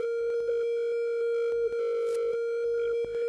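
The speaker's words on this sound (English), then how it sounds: "You hear that glitchy filter thing?" A Befaco Oneiroi Eurorack module holds a single C sharp drone note, steady tonal hum with a glitchy automated filter stuttering and chopping it in rapid irregular bursts, alone and upfront.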